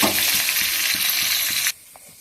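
Potatoes fry with salt for aloo dum, a dense, close sizzle that hisses steadily for under two seconds, then drops abruptly to near quiet with a faint knock.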